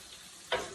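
Onions and sweet peppers sizzle in a frying pan as they are stirred, a faint steady fry hiss jumping into a louder scraping burst of stirring halfway through.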